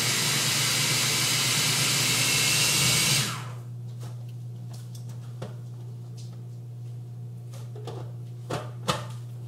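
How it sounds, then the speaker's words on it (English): Frozen cauliflower is riced in a kitchen appliance with a loud, steady whirring hiss for about three seconds, then cuts off, leaving a low hum and a few faint clunks. "And that didn't take long at all for me to rice up this cauliflower."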